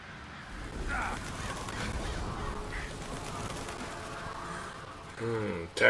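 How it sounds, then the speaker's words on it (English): In The Witcher 3, a flock of birds swoops in to attack, flapping and squawking in a busy, continuous game soundscape with a louder burst of honking calls near the end. "Attacked by the birds."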